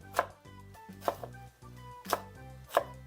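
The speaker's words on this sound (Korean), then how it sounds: "밤을요 4등분 해주면 됩니다." A knife cuts chestnuts into quarters on a cutting board in four sharp strokes at a steady, unhurried pace, with a low hum beneath.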